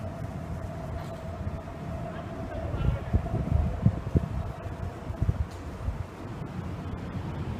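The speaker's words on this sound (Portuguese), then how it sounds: "O vento atrapalha um pouco" Wind gusts across a construction site where workers hoist a structural cell with a suspended work platform. It is a low, buffeting rumble that swells in uneven bursts midway over a faint steady hum.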